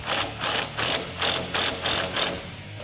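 A spring compressor is tightened while lowering springs are fitted to a Dodge Challenger, giving a loud, close run of about seven evenly spaced ratchet clicks with no one talking.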